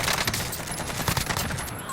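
Rapid gunfire from Call of Duty: Warzone, dense overlapping shots crackling continuously for about two seconds, loud and close, with game sounds layered underneath.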